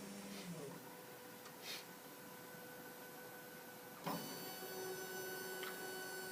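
A 600 DPI printing system runs steadily through an image print, a faint mechanical whir with occasional clicks and a louder clunk partway through.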